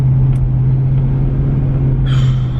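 A car on the road, with a steady low engine and tyre drone filling the cabin, continuous and close, with a brief rise in road hiss near the end and no talk.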